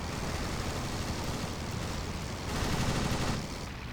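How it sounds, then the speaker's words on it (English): Machine guns rattle at an enemy plane in a WWI flight sim dogfight, a dense continuous crackle of fire over steady engine drone, moderately loud with a brief heavier burst near the end. "we're putting some rounds into him"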